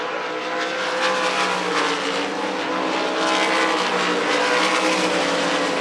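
Sprint cars race on the dirt oval of Devil's Bowl Speedway in Texas during the 305 Sprint Car Nationals, a loud, continuous engine roar that rises and falls slightly as the pack circles the track, with no voices.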